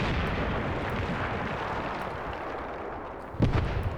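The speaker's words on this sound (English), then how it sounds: "So the shells will still land all over the place here." Mortar shells landing in the Graviteam Tactics Mius Front war game, with a sustained wash of distant explosion rumble and a sharper, louder impact burst near the end.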